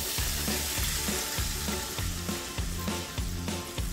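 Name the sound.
milk added to hot ghee in a kadhai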